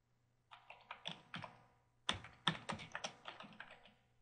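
A computer keyboard clicks quietly as a field name is typed, in two short bursts of rapid, uneven keystrokes separated by a brief pause, close and clear with no voice.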